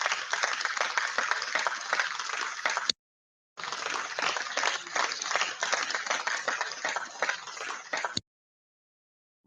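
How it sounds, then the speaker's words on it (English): Crowd applause with dense clapping in two bursts, separated by a short silence, fairly loud and close, ending abruptly. "More clap for him, more clap for him."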